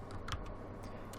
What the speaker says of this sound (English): typing one hand